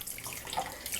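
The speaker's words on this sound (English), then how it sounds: "what you're gonna do now is you're gonna pour the vinegar into the tub of the egg" Vinegar pouring into a tub over an egg: a steady, fairly quiet liquid splash and trickle lasting about a second, with no talking.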